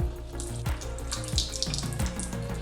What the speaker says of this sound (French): Je viens de remplir un grand verre d'eau tiède. Et là je vais rincer tout doucement